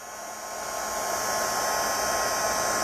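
A craft heat tool blows hot air in a steady, loud broadband whoosh that swells over the first second and then holds evenly throughout, with no voices.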